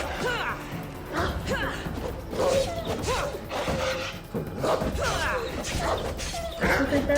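Barking of a dog in Assassin's Creed Odyssey, several sharp woofs and yips repeating at an uneven pace, close and fairly loud over busy game ambience with crashes and clatter, plus some talking mixed in.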